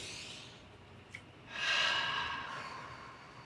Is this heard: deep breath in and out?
yes